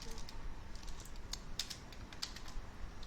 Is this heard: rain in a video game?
no